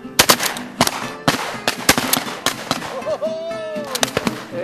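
Shotgun blasts from wingshooting birds ring out in quick, sharp bursts, several loud close shots in succession, with a brief voice near the end.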